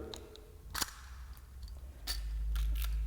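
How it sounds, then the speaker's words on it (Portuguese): An analog film camera's shutter fires in a few sharp, close mechanical clicks spread across the clip, the second pair quicker, over a quiet low hum with no talk. "Aqui nessa câmera analógica, dá para ver bem como é que funciona a velocidade do obturador."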